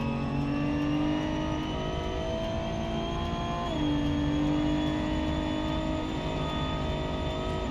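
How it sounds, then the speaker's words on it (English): Race car engine in BeamNG on the Pikes Peak hillclimb, a loud sustained buzzing drone with a sharp pitch drop and quick throttle blips under braking before the hairpin, close and continuous without talk. "A little bit early on the brakes, has to blip the throttle in the braking zone just to get the car to the hairpin"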